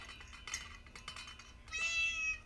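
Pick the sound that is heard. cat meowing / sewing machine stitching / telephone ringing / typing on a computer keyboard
cat meowing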